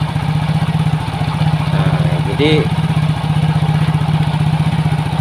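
Yamaha Soul GT motorcycle after its ISC sensor was refitted, idling at about 1600 rpm with a steady close putter, while someone talks over it.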